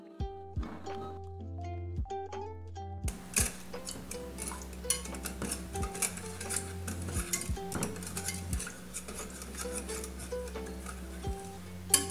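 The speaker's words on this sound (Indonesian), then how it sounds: "dengan api yang kecil ke sedang, kita masak sambil terus diaduk." A utensil scrapes and clinks steadily against a metal pot, repeated stirring strokes of a chocolate mixture over low-to-medium heat, with occasional sharper knocks, up close with no talk.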